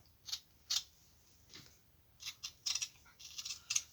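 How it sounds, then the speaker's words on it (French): Close-up scissors snip through burlap fabric for a rabbit coaster in a run of quick, uneven crisp cuts, some clustered together, quiet and without speech. "Ça se coupe bien, hein, franchement, la toile de jute."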